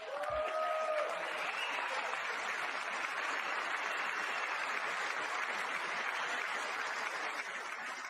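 Sustained applause fills a large chamber during a State of the Union address, a broad, even roar of many hands clapping that continues for several seconds, with a brief voice at the very start.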